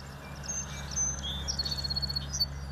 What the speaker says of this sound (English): It's the birds chirping in the morning